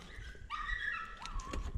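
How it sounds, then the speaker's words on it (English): Dog yelping from inside its pen outdoors, a few high, thin whining yelps rising and falling over about two seconds, fairly close and heard alone without talk. "My dog's yelping over there"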